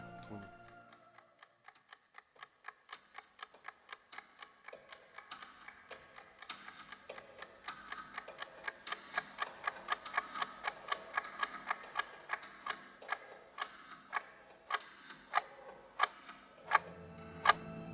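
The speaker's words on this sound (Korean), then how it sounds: "이 영화는 처음 시작의 다름 아닌 시계 소리를 들려줍니다." A clock ticking at the opening of the 1987 South Korean film: sharp, evenly spaced ticks that start faint and grow steadily louder and more pronounced, ending in a few loud, isolated clicks.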